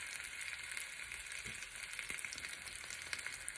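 Chicken breast sizzles steadily in a hot pan, a constant bright crackle with small pops and no talking.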